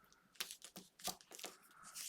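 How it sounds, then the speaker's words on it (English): Backing peeled off double-sided tape on a matted card makes a few short, close ripping pulls with crackly tearing texture, separated by brief pauses, fairly quiet with no talking. "And then again, I'll pull the backing off."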